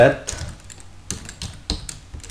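Someone types the loadkeys command on a computer keyboard, giving a few sparse clicks and then a quick run of crisp keystrokes close by, with no talk over them.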